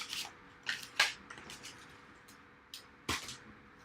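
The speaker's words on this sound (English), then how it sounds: "I'm going to just cut this one out" Scissors snip through a papercraft piece in a few short, crisp bursts, close and quiet, with brief pauses between cuts and no talking.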